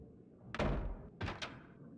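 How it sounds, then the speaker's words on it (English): A door in the video game Max Payne is pushed open, giving a heavy thud followed by two quicker knocking bumps as it tries to swing shut, close and fairly loud against a quiet background. "I pushed the door open, but it was very eager to remain closed."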